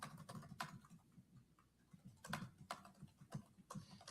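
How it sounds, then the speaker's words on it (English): Rapid typing on a computer keyboard, with quick irregular bursts of clicky keystrokes and short pauses, close but fairly quiet. "He's typing fast"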